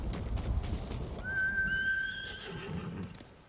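A horse in the video game Ghost of Tsushima gives one clear, drawn-out whinny that rises and trembles, preceded by a soft clatter of hooves and game ambience, with no talking.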